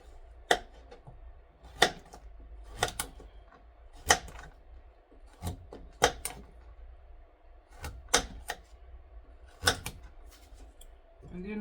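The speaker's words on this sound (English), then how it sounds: "cutting up my pumpkin" Knife chopping through a pumpkin on a cutting board, about a dozen sharp, evenly spaced cuts at a steady rhythm, close and clear over a low hum.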